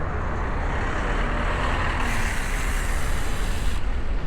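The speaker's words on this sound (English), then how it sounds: "Got a nice truck in the bike lane." A truck pulling out of a city bike lane, heard as a loud, steady roar of engine and road noise that swells briefly in the middle, with heavy traffic rumble throughout.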